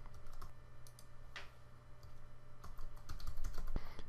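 Fingers tapping out a password on a computer keyboard, a quiet, close run of irregular clicks and key presses with brief pauses and a slightly heavier burst of keystrokes near the end.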